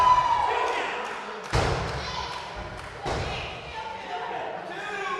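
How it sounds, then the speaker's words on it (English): Heavy thuds of a wrestler slammed onto the ring by Matthews' powerbomb on Lee in a small unair-conditioned room, two loud impacts a second and a half apart with a rattling echo, under crowd noise and commentary. "There's a massive power bomb by Matthews onto Lee."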